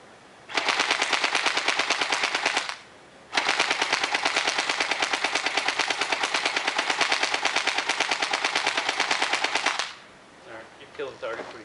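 An airsoft AK-47 rifle fires fully automatic at a target in two long, rapid bursts of sharp clattering shots, a short pause between them, then a brief murmur of voices after the firing stops.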